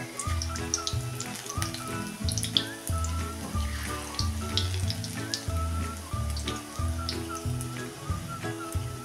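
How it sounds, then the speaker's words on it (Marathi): Spinach bhaji fritters deep-fry in hot oil with a steady crackling sizzle that runs the whole time, partly masked by louder background music. "आणि भजी चांगली कुरकुरीत होईपर्यंत तळून घ्यायची आहेत।"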